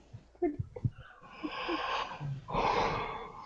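A person yawns aloud, a long drawn breath rising into a sustained open-mouthed exhale, preceded by a few short snorting breaths, close and moderately loud with no talk.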